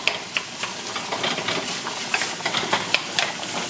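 Ground beef is stirred in a hot pan for an Aussie meat pie, with steady hissing sizzle and repeated scraping clicks of the utensil.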